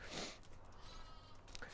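A lamb or young sheep gives a loud bleat as it is led on a halter, followed by quieter shuffling and faint movement sounds.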